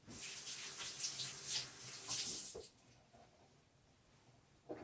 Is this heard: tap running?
yes